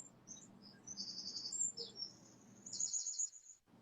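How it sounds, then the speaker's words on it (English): Birds chirp and tweet in short high bursts over a faint low ambient hum, with quiet gaps between the calls in a calm natural outdoor setting. "the birds chirping"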